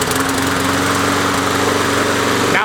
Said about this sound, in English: Now watch the mower. That's what it normally does.